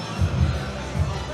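A wrestling arena crowd reacts loudly to cheating tag team champions SCC during a tag title rematch against Aussie Open, a dense, steady roar of many voices with swelling bursts of jeering.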